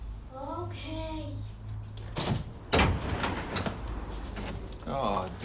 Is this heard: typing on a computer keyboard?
no